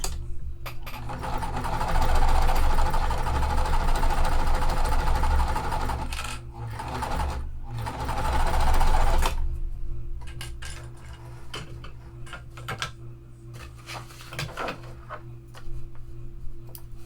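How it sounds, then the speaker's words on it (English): A sewing machine stitches a cotton triangle cut on the bias for a quilt, running in steady whirring bursts with pauses, then quieter ticks and light clinks of handling afterward. "Since I'm sewing a triangle, sewing on the bias, I really don't want it to stretch."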